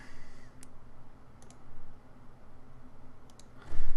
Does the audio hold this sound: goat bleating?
no